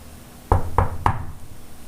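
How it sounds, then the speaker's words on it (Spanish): Three firm knocks on a dressing room door, evenly spaced and close, with nothing after them. "casi de inmediato tocaron a su puerta."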